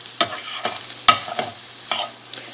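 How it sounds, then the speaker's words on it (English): Shredded cabbage cooking down in a hot pan for a stuffed eggplant dish: a continuous close sizzle broken by a few sharp utensil clacks and stirring scrapes at irregular intervals. "So now I'm going to let that cook a little bit more and let that cabbage cook down."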